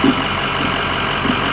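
A truck idles and rumbles nearby while positioning a trailer at a barn masonry site, a steady low engine drone with a couple of brief higher blips over it.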